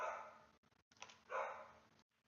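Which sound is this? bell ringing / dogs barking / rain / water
dogs barking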